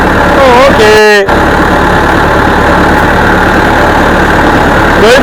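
A tractor engine runs in a steady rumbling idle while being maneuvered, loud and close, with people talking and exclaiming over it.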